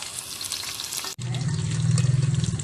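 Okra (bhindi) fries in hot oil with a dense, steady crackling sizzle, briefly cut off and then resuming under a low humming rumble, close and fairly loud with no speech.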